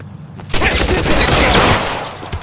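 Rapid gunfire from a .45 pistol in the crime game L.A. Noire, a loud, dense burst of shots layered over a busy shootout that holds steady for about two seconds before easing off.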